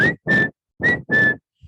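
A person whistles four short breathy notes in a steady rhythm, close to the listener, with a small puff of breath at the end and no talking.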